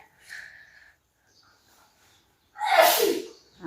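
A single sharp sneeze bursts out near the end, preceded by a faint breathy intake and quiet room noise, close and loud.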